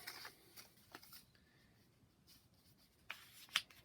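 Rustling and scraping of a package being opened to reveal a baseball card game set, with soft paper shuffles and a few sharper tears, close and fairly quiet, with no talking.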